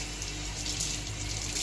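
Tap water runs steadily into a kitchen sink while cooking pots and utensils are washed during preparation of Jamaican rice and peas, a continuous close splashing hiss with no talk.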